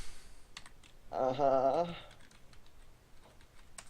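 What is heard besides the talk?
typing on a computer keyboard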